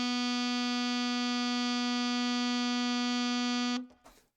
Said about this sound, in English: this is the G sharp or A flat key that you use in order to get that note